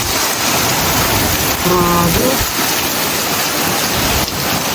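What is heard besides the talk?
heavy rain in Canada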